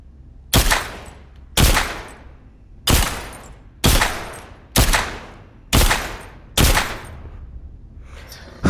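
Seven sharp, loud gunshots ring out one at a time at roughly one-second intervals in The Walking Dead video game, each with a short decaying tail and no talking.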